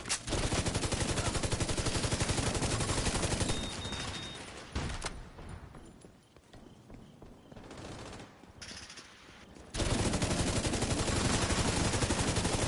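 Turret gunfire in The Division 2 rattles as sustained rapid automatic fire, dense and loud for several seconds, then drops away to scattered quieter shots and noise before a heavy burst resumes.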